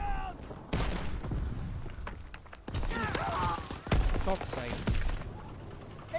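Rapid bursts of gunfire and explosions from a Call of Duty WWII multiplayer battle, dense and loud throughout with repeated shots and booms, while a voice speaks briefly over the combat.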